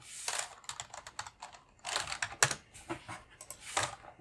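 Rapid typing on a computer keyboard at a desk, bursts of crisp key clicks with short pauses between, close and fairly quiet.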